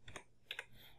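Keys tapped on a computer keyboard in two quick pairs of clicks, close and quiet.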